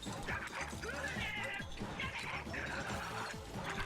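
Dog barking and yipping in Mario Odyssey, a run of sharp, fairly close yaps and barks over steady game music and effects.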